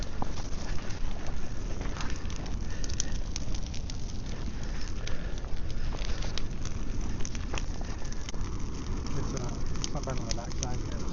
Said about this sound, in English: Now that is a proper bonfire.